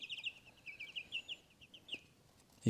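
A young chicken clucking and peeping softly in a quick run of short, high chirps, fairly faint and close, with a louder bump at the very end.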